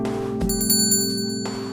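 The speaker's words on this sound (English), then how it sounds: "I entered the store, the sound of the bell alerting the staff to my arrival." Shop door bell in the video game Angels with Scaly Wings rings once, a bright metallic chime that lingers for about a second over a steady background music hum.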